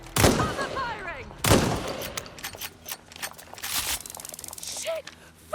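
Gunfire in the Watch Dogs Legion video game: sharp bursts of shots around the start and again midway, then a denser rattling volley near the end, with voices shouting over the firefight.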